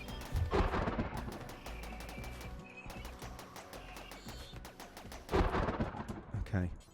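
Rapid gunfire from a Rimworld battle against Nurglings, with dense overlapping shots and bursts under music and game noise, fairly faint overall and swelling louder near the end.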